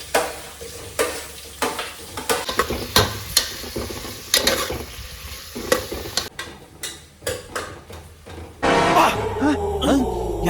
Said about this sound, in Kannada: ಈಗ ನಾನು ಈರುಳ್ಳಿ ಹಾಕ್ಕೊಳ್ತಾ ಇದ್ದೀನಿ